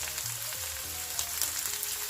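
Okra frying in hot oil over medium heat, a steady close crackling sizzle that fills the short stretch without pause, with no voices.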